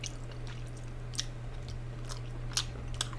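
Close-up chewing of dense, round food, soft wet squishes and a few sharper bites over a constant low hum, quiet and intimate with no talking.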